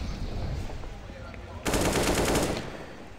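Automatic rifle spray in a Counter-Strike match: a dense burst of rapid shots about a second long, loud and close, following a quieter stretch of game ambience with faint voice-like sound.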